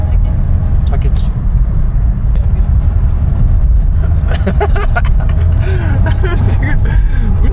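Steady car engine drone and road rumble from inside a vehicle moving through city traffic in Iran, continuous and fairly loud, with people talking over it and faint higher traffic sounds later.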